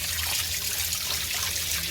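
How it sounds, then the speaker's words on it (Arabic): Running tap water pours steadily over fish being rinsed clean during preparation of Egyptian sangari-style fish, a continuous close splashing trickle with no voices. "نفتح المية الجارية عليه وننضفه كويس جدا"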